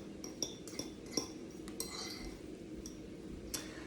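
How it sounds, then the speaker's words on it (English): A fork clinks lightly against a bowl while stirring spices into a tofu veggie scramble, with a few distinct small metallic taps spread over soft scraping and a low background hum. "I just take a fork like this and kind of stir it in"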